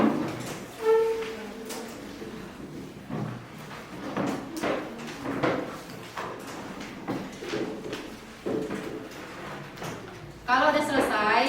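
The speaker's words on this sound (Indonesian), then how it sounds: "silahkan rapikan meja dan kursi, sekaligus siapkan buku di atas meja" Students tidying desks and chairs in a classroom, with repeated scraping, knocking and thudding of furniture scattered over several seconds, mixed with children's voices talking throughout.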